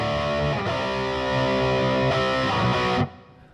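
An electric guitar plays through a Sonic Distortion (Hedgehog D9) pedal model on a Pod Go: a thick, buzzing distorted chord rings on, shifts once or twice, then is cut off abruptly, leaving a fading tail.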